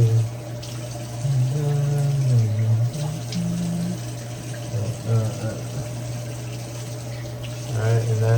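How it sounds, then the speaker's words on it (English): Tap water runs steadily into a sink while someone washes their face one-handed with a wrist cast, a continuous close splashing flow with a low hum beneath and occasional voice-like tones. "that is my first time washing my face with the cast"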